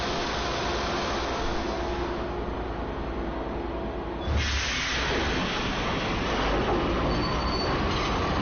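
Train rushing past in a steady loud roar, with a sudden shift midway as the rumble surges and hisses, continuous throughout with no voices.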